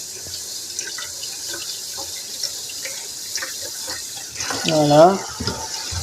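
Tap water runs into a sink to rinse sprouted seeds, a steady watery hiss under French speech with a louder splashing burst near the end.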